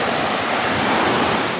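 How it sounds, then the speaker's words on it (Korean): Ocean surf washing steadily onto a shore, a continuous broadband rush with light wind buffeting, picked up by a small chest-worn Insta360 GO 2 action camera. "파도 소리는 어떻게 잘 들어가는지 한번 테스트를 해보고 있어요"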